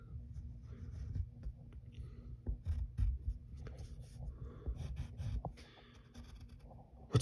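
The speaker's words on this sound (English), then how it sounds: "Then we draw his forehead lines." Pencil strokes drawing forehead lines on paper for a cartoon of Lumiere the candelabra: soft, close, continuous scratchy rubbing in short repeated passes, with brief pauses between strokes.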